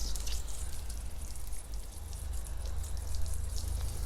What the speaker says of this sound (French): on va arroser pour nettoyer.